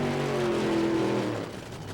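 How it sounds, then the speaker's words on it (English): A 1995 NHRA Western Auto Nationals funny car drag racer doing a long burnout, a loud, sustained engine roar with a steady pitch that drops and fades slightly near the end. "Spurlock with a long burnout"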